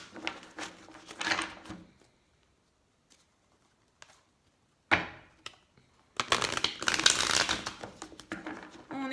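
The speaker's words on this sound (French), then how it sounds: "Elles veulent bien se mélanger ces cartes." Oracle cards are shuffled by hand in bursts of papery riffling and flapping, a quick rush at the start, a brief slap midway and a longer dense shuffle at the end, separated by near silence.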